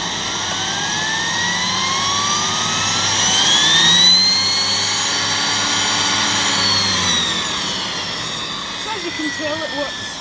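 A Miele 5000 series vacuum cleaner with a turbo head runs with a loud, steady whining roar that rises slightly in pitch and then eases, while a person talks over it near the end.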